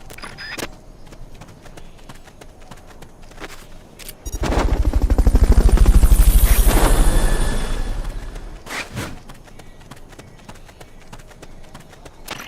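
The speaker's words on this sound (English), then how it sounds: "Fulton recovery helicopter is complete." Helicopter from the video game Metal Gear Solid: Peace Walker sweeping in during a Fulton recovery, a loud rotor roar that swells in the middle and fades, set against quieter game ambience.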